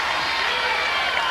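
A big Iowa wrestling crowd of about twelve thousand roars steadily behind a competitor during a match, a dense, loud wash of cheering and clapping with a commentator's voice underneath.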